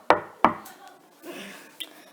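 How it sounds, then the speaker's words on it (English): Two sharp knocks on a wooden door land in quick succession, followed by a softer rustle and a faint final tap, all close and clear. "there was another knock on the door"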